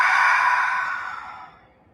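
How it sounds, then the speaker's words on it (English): One loud, close exhale through the mouth in a yoga breathing exercise, a breathy rush that starts strong and tapers away over about two seconds. "breathing out, breathing in through our nose and out through our mouth"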